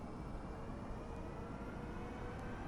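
An L-1011 TriStar starts a rolling takeoff in Flight Simulator X, a faint, steady engine drone holding level without a break.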